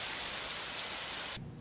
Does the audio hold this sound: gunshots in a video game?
no